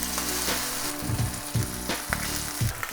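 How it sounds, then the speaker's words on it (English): Salmon fillet laid skin side down in a hot, smoking pan sizzles and fries loudly and steadily, with repeated bursts of crackling and spatter and no voices. "I'm gonna go ahead and lay our salmon skin side down"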